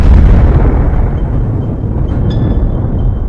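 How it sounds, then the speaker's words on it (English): A ferocious blast of energy as matter and antimatter annihilate, rendered as a loud, heavy explosion whose deep rumble peaks at the start and rolls on, slowly fading through a sustained roar with a faint high ring late on. "the two annihilate each other in a ferocious blast of energy"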